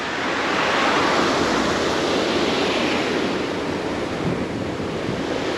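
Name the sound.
Saint-Quentin river flowing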